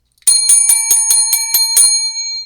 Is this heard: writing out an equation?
no